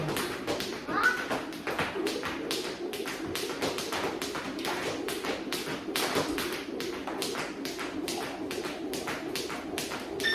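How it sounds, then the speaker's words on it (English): Jumping rope during a home workout: a steady run of rapid, evenly spaced taps and light thuds from the rope striking the floor, with a bird cooing faintly and voices now and then. "All right, that's jumping rope."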